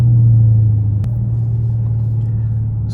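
A car engine with paddle shifters drones steadily and close, with a low, even rumble and a slight shift in pitch about a third of the way through, and no talking.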